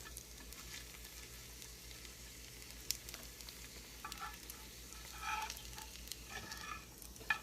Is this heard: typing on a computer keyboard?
no